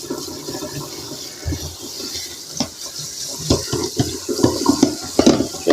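Water runs steadily over sprouted seeds being rinsed, a loud splashing flow with intermittent clatter and sloshing as the seeds are handled under the stream.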